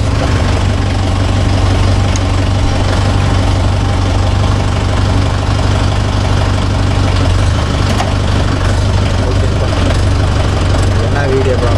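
A Mahindra Yuvo Tech Plus 585 4WD shuttle-gear tractor engine running, a loud steady diesel rumble with constant vibration throughout; a person talks over it at times.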